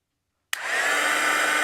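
A heat tool clicks on after a brief silence and blows steadily, a loud, even whooshing hum drying watercolor marker paint up close.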